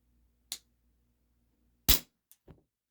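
An Isaazon single-stroke pneumatic 4.5mm air gun fires a sharp, close crack, followed by several lighter clicks and taps in an otherwise quiet room.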